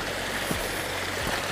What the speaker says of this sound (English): Beautiful little brook.